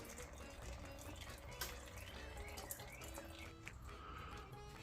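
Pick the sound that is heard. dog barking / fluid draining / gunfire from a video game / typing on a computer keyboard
fluid draining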